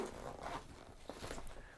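A YKK zipper is pulled open on the front compartment of a khaki Maxpedition Proteus Versipak. It rasps in a few quick, fairly quiet strokes, close to the mic.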